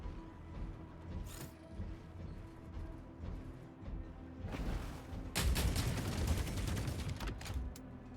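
Gunfire aimed at a Rex mech in the Hawken Reborn video game: scattered shots and mechanical clanks at first, then a loud sustained burst of rapid firing in the second half.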